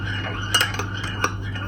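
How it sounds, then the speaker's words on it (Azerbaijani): A spoon stirs water in a cup, giving a few bright metallic clinks against the sides over a low steady hum, close and alone. "Biraz qarışdıracağıq indi."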